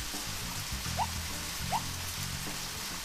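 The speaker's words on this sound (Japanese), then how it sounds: "雨降ってきちゃいました" Rain in the video game Red Seeds Profile: a steady, soft wash of falling rain with a couple of brief higher chirps breaking through, continuous and moderately quiet.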